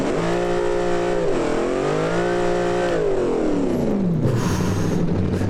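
Simulated dragster engine in the video game Automation roaring through a burnout, with steady loud revving whose pitch climbs, dips and climbs again before sweeping down, continuous and close with no talk.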